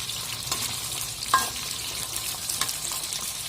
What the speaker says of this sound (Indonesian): untuk selanjutnya tuangkan cumi-cumi ke dalam tumisan tadi teman-teman.